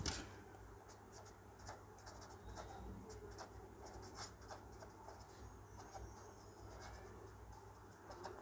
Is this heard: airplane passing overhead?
no